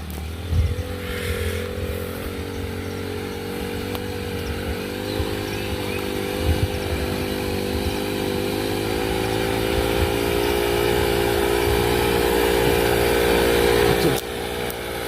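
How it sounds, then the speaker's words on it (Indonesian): A motorcycle comes along a forest road in the mountains, its engine droning steadily and growing slightly louder as it nears, over a constant close engine hum; people speak quietly now and then. "kebetulan sepertinya kita mau berpapasan dengan sepeda motor"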